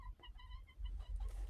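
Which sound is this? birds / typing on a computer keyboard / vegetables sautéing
birds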